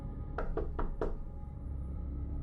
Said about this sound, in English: there was a knock at the front door